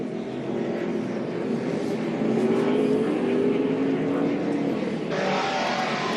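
A NASCAR race truck engine roars steadily from an onboard roof-mounted position during the 2014 Kroger 250, a loud continuous drone with rising pitch as it accelerates, ending in a sharper burst of wind and road noise.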